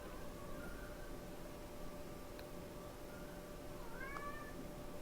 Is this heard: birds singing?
no